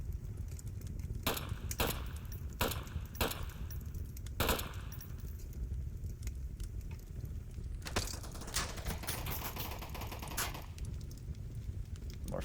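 Gunfire in the VR shooter Onward during a competitive match: sharp broadband shots spaced irregularly, a few bursts and single cracks over a steady low game rumble, with no talking.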